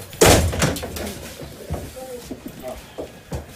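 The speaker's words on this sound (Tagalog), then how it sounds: "Pero naglock ng pinto ang sospek kaya pwersahang pinasok ang bahay niya sa Barangay Gulod" Police forcing open a locked door at a suspect's house in Barangay Gulod, Quezon City: a loud heavy slam followed by several sharper knocks and bangs, close by.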